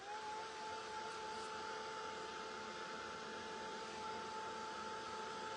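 A hair dryer blows steadily at close range to dry a handmade craft piece, its airflow a constant, even whoosh with a faint motor whine held at one level throughout.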